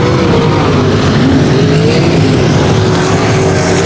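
Race cars roar around the 281 Speedway oval, a steady, loud engine drone with gently shifting pitch from several cars circling together, continuous with no clear breaks or speech.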